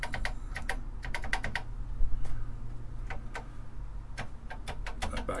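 Keys clatter on a TeleVideo TVI 912C terminal keyboard, a close run of crisp clicks in quick bursts with short pauses, alone without talk.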